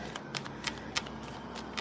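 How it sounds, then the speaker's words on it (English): Tarot cards being shuffled by hand: quiet, papery riffles and soft flicks repeating in short bursts against a faint background hiss, with no voices. "are we finished shuffling this deck?"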